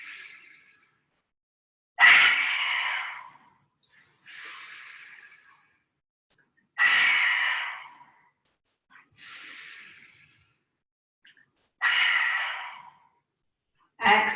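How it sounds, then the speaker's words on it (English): Lion's breath yoga exhales with the tongue out, three forceful, breathy rushes of air a few seconds apart, each preceded by a softer inhale, close and clear in a quiet room. "if you'd like to do lion's breath, then as we exhale, really stretch the chest forward and stick the tongue out of the mouth as you exhale"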